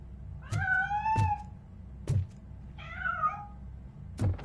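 A cat in the Robocop Rogue City game meows several times with rising and falling cries, mixed with soft thuds or footsteps, fairly close and without talk.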